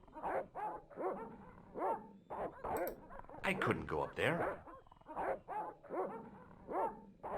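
Dogs in the point-and-click adventure game Broken Sword bark repeatedly in a steady, rhythmic series of sharp barks across several seconds, with a character speaking briefly over them midway.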